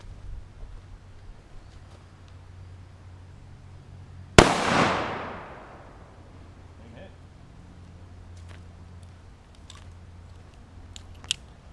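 A single sharp, loud shot from a tiny handgun firing an oversized round cracks out in a backyard, its blast decaying over about a second, followed by quiet ambience and small clicks and rustles.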